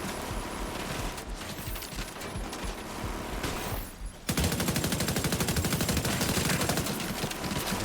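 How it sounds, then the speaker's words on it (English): Rapid bursts of automatic gunfire from a Rainbow Six Siege match, loud and continuous, rattling for several seconds before a brief dip and then a sharper, denser volley of rapid shots. "They're shooting"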